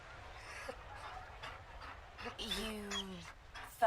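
A Mabari war dog in the fantasy game Dragon Age: Inquisition whimpers and gives a drawn-out, falling whine amid faint ambient game noise, with some quiet talk nearby.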